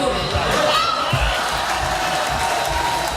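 A large crowd cheers and shouts loudly in Château-Renard while waiting for the Biou d'Or vote verdict, a dense and continuous roar of many voices.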